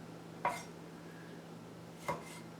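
Two sharp knife chops through heirloom tomatoes on a cutting board for salsa, spaced well apart, close and crisp against a quiet kitchen background.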